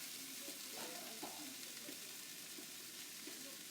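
Corn with a good char and pre-cooked brown rice being stir-fried in a pan, a steady soft sizzle with light scraping stirs, close and fairly quiet, no voices.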